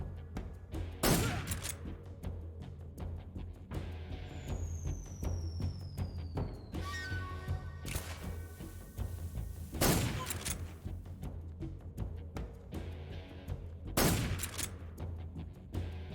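Loud gunshots in Metal Gear Solid 3 crack out at irregular intervals over a dense bed of game ambience and music, with a whizzing sweep and metallic clatter between shots.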